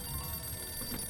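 A telephone rings in the Sam & Max Save the World adventure game, a steady, fairly quiet electronic ring that runs the whole moment over a faint low hum, with no talking.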